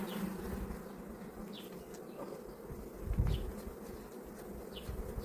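Honey bees from a strong colony buzz at an opened hive, a soft, steady droning hum with occasional individual bees passing close by.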